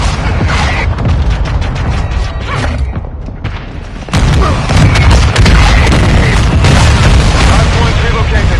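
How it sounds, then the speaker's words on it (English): Dense, continuous booming and rumbling from mortar strike explosions in Call of Duty Modern Warfare 2 multiplayer, loud and close, with a brief lull before the barrage intensifies again, voices heard amid the din. "Hostile mortar strike near your position."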